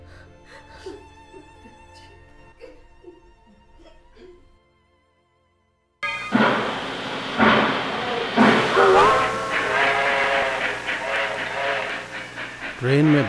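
A train runs as a sound effect in a Hindi radio play, with rumbling wheels and a whistle-like tone rising loudly after a short silence and continuing steadily to the end.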